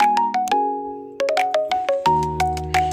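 A mobile app notification chime plays a bright, repeating melodic sequence of bell-like tones, clean and close with no talking.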